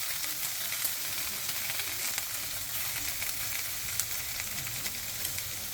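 Leaves fry in a pan with a dense, steady sizzle and crackle, close and even throughout, with no voices over it.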